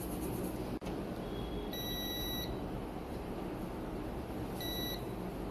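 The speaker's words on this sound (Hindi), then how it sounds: "मल्टीमीटर को बीप मोड में रखना है" A digital multimeter in continuity mode, set to check for shorts on a dead Vivo Y400 Pro / V40e phone board, gives two short high-pitched electronic beeps, one near the middle and one near the end, over a steady background hum.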